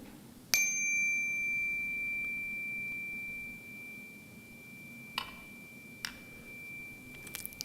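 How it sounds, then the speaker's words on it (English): A single chime is struck once during a Sunday church service and rings out as one clear, sustained tone that slowly decays, with a few faint taps and rustles afterward. "we're going to join in our vibrational oneness with our chime"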